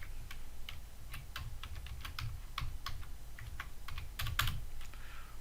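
Rapid, uneven keystrokes on a computer keyboard while C# code is entered, a dense run of crisp clicks with a few louder strikes, close up and alone with no talking.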